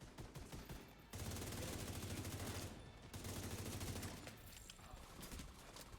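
Nail guns firing in a video game, a loud, sustained rattle of rapid shots with brief gaps and continuous action noise underneath.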